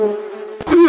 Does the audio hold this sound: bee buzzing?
yes